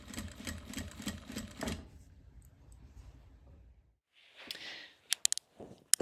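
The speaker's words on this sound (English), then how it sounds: "So there we have the bottom piece sewn on as well and our handle on." A sewing machine stitches the bottom piece onto a tote bag, whirring in a fast steady rhythm for under two seconds before stopping. Quieter handling noises and a few sharp clicks follow, close up.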